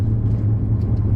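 Low, steady rumble from a truck engine while driving, close and even across the whole brief moment.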